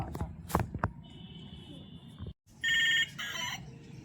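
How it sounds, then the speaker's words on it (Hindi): A toy mobile phone rings with a bright electronic tone, first a steady beep and then a louder burst of chirpy ringing, close by, between children's voices and light knocks. "अरे मोबाइलिया तो बज रहा है जी"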